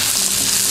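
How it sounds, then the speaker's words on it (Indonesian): Coarsely ground spice paste sautés in hot oil, giving a loud, dense, continuous sizzle that fills the whole short moment without pause. "Jadi aku lebih suka bumbunya ini ditumis dengan kondisi kasar seperti ini."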